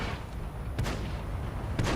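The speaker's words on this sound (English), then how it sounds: "The STI bounces him on his turret, and he gets a nice tracking shot into him." Tank cannon shots in the World of Tanks video game, two heavy booming blasts about a second apart over a constant dense rumble of engine and battle noise.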